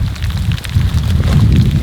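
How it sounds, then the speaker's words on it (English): Hail falling steadily outside a house during a storm, a dense continuous low rumble with scattered sharper patters on top, loud and unbroken throughout with no voices. "is hail"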